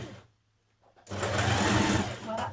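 A sewing machine stitches a seam on a New Look 6446 summer jumpsuit, starting after a brief pause with a fast, steady mechanical whirr and rattle, close and loud, running for a second and a half.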